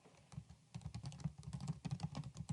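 Rapid keystrokes on a computer keyboard while a search about crisis intervention teams is entered into a periodicals index, steady close clicking with brief pauses and no voices.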